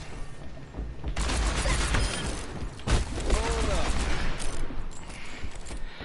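Rapid gunfire bursts and a flashbang blast in the competitive shooter game Overwatch, sustained loud shooting with sharp impacts and a brief burst near the middle, over game effects.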